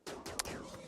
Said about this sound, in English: that machine gun seemed a lot faster than I expected